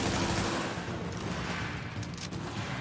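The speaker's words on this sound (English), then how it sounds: "Oh, that guy's planted his sentry gun." Sentry gun in the video game The Division firing in a loud, continuous stream of rapid shots. The barrage is dense and steady across the whole stretch.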